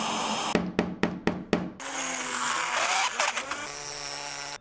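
A power screwdriver drives screws into a laptop screen cover, first in five quick, sharp bursts, then a longer whirring run with clicks and small knocks, close up and with no talk.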